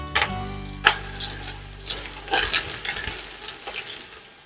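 Onions frying in a pot with sweet peppers and celery added, a steady soft sizzle under sharp clicks and scrapes of stirring and vegetables dropping in, close by with no talking.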